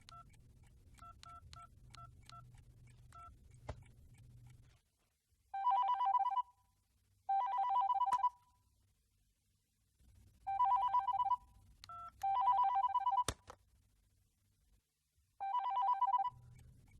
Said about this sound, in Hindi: राधा को फोन करते हैं